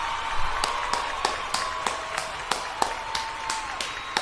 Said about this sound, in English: Okay, we're gonna do applause again.